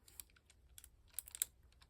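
A paper stencil being cut by hand for a mixed media craft project, giving soft, crisp, irregular snips and clicks close by at low volume, with no talking.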